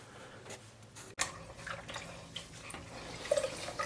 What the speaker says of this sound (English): We'll get our bucket of water and the sponge, and we'll come in here and clean it off a little bit.